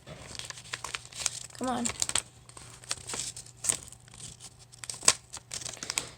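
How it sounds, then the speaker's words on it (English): Vinyl stencil being peeled off a reverse canvas, a series of soft crinkling and tearing sounds spread across the moment, close and fairly quiet, with a few brief spoken words mixed in. "Now you peel it off."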